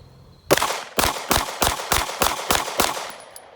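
Glock 45 pistol fired at an outdoor range: seven sharp, evenly spaced shots in quick succession, loud and close, with no talking.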